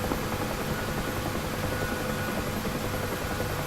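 Helicopter in the DCS flight simulator game, a steady, dense rotor and engine roar that holds evenly at a loud level throughout with no talk over it.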